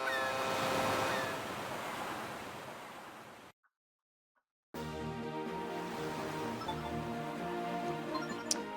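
Ocean waves wash steadily while sailing in Phantom Hourglass, a continuous surf-like rush with wind, broken by a brief silent gap before resuming with layered tonal game sounds.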